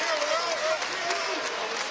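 A basketball crowd cheers and claps at the new arena at Towson University during a Towson versus Temple game, a steady dense roar with a commentator talking over it.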